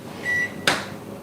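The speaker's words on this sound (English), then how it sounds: "stop playing with the microwave" A microwave oven in a coffeehouse kitchen gives a short steady beep followed by a single sharp clunk of its door or latch, close by, with no talking.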